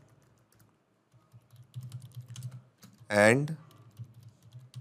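Light, irregular tapping of keys on a computer keyboard as a message is typed, soft and close, with a brief spoken word breaking in partway through.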